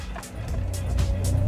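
A car pulls away with a low engine rumble rising steadily in loudness, close by and alone, with faint higher whooshes of tyres and wind over it.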